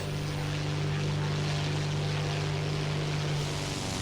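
Propeller engine of an American fighter plane in War Thunder drones steadily throughout, a loud sustained hum with a strong low tone and broad airy roar, no talking.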